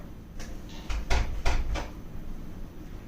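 A door is knocked on or bumped several times in a short run of dull, moderately loud thuds, spaced unevenly, heard alone in a quiet room with no talk.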